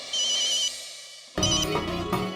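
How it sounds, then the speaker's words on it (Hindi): An outgoing phone call rings out in a Taarak Mehta Ka Ooltah Chashmah episode, one sustained electronic ring tone, a brief gap, then a louder, fuller ringtone melody. "चेतन भाई को फोन लगाता हूँ"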